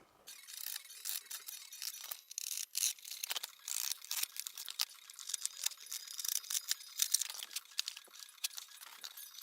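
Cutting the corner off a homemade Nerf gun case makes a steady run of crisp scraping and crinkling bursts, close and fairly quiet, with no voices.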